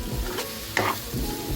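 A spoon stirs simple yellow potato bhaji, Nashik style, in a pan, scraping and mixing over a constant close sizzle of frying, with no talk.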